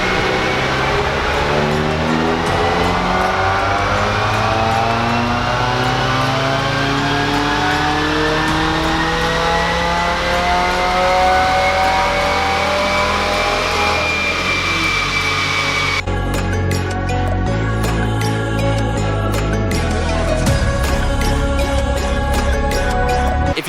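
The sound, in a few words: Subaru WRX engine revving at full throttle on a dyno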